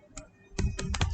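Code is typed on a computer keyboard in quick, crisp clicks, one isolated tap followed by a rapid cluster of keystrokes, close and dry with no talking.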